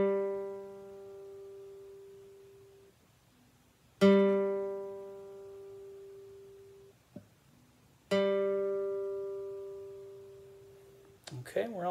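A guitar's G string is plucked three times for tuning, each note ringing out clearly and decaying slowly, with a brief quiet voice between notes and a short muffled handling noise at the end.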